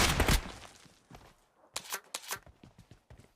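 Gunfire in the mobile battle-royale game PUBG Mobile during a competitive PMGC esports match: a loud burst at the start, then a string of sharp, evenly spaced shots after a brief lull, with no talk over them.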